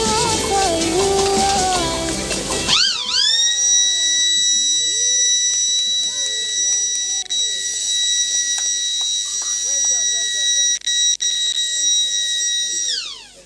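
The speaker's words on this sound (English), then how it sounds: "The flood detector now triggers the alarm and alert the dwellers of the flood before it occurs" A flood detector alarm blares a loud, steady electronic tone held for about ten seconds, with people chattering and shouting around it after a burst of loud talk at the start.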